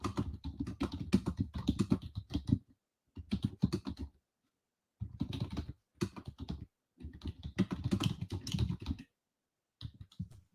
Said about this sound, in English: I'm going to type in our chat right now.